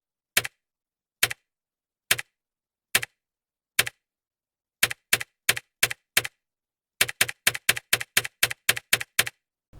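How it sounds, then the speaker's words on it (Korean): Individual keys on a keyboard with tactile switches are pressed one at a time, making crisp, sharp clicks in near silence, slow and spaced at first, then quicker and bunched into a rapid run of taps. "텍틸이라는 모델은 소음이 조금 있는 동시에 눌렸을 때 입력이 됐다는 느낌이 살짝 들게 하고"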